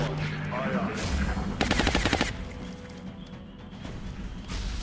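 Gunfire in the turn-based strategy game XCOM Long War: a short, rapid burst of automatic shots rattles out near the middle, framed by dense game ambience and busy sound effects.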